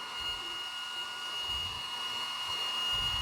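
A Mission Instant Cooling Fan runs steadily with a loud, even, broadband airy whoosh and a thin high whine, a constant drone close by with faint low bumps under it.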